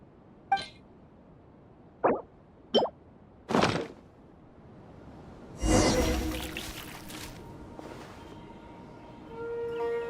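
Water poured in a Genshin Impact scene, starting with a few separate plops and drips, then a longer splashing pour that trails off into a soft trickle, all clear and close with no talking.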